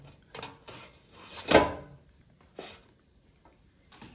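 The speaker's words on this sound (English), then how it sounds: "let's take out the air fryer basket and let's flip this pasty so it cooks more" An air fryer basket is pulled out and a frozen pasty inside is flipped: a few sharp plastic-and-metal clunks and scrapes, with one loud clatter in the middle and softer knocks after, close by with no talking.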